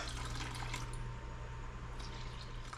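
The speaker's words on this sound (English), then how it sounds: "And then a cup and 2/3 of water, or 375 grams" Water poured into a sourdough starter, a continuous, fairly loud rushing pour that runs steadily from start to finish.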